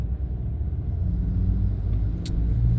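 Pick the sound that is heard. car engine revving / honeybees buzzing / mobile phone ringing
car engine revving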